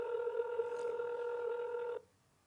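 A single telephone ring, a steady electronic warble held for about two seconds before cutting off abruptly into quiet room tone.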